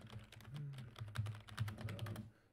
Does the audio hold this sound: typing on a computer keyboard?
yes